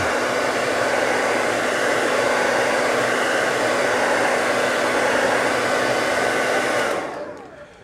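Hair dryer blowing steadily to dry Posca paint marker work on a canvas, a loud constant whirring rush that runs unbroken for about seven seconds and then cuts off and fades out.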